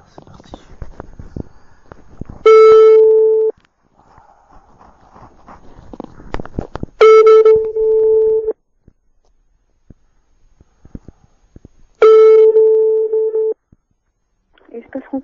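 A French telephone call plays three long ringback tones, each lasting about a second, spaced several seconds apart, with faint background noise and clicks between rings.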